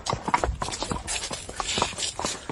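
Horses' hooves clip-clop on the ground as riders slow and halt, a quick uneven run of sharp close knocks, loud and clear with no talk.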